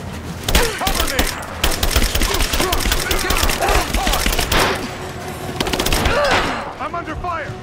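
Gunfire in the Rise of the Tomb Raider video game, dense rapid bursts of automatic shots mixed with single cracks and thuds, loud and close, with shouting voices underneath.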